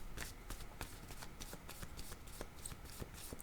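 Cards being shuffled for a card reading, a quiet, continuous run of soft riffling flicks and slaps close by, faint and steady throughout.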